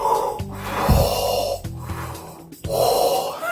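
A voice imitates Darth Vader's mask breathing, with three slow, loud, rasping breath cycles that alternate heavy inhales and exhales, each ending in a sharp break.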